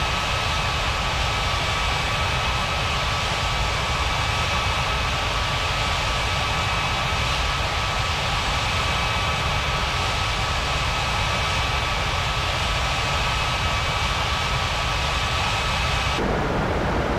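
An Air China airliner taxiing to the runway in a mobile flight game, a steady loud jet engine roar with constant broadband rushing noise and a faint tonal whine, unbroken and with no talk.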